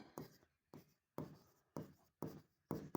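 A pen scratches across paper in five quick strokes, each a short close scribble separated by pauses, quiet and crisp with no voice over it.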